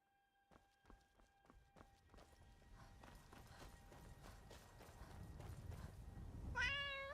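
In Skyrim gameplay, a cat gives one clear rising meow near the end, after a run of footsteps that start as distinct steps and blur into a steady shuffle.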